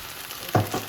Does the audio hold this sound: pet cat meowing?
no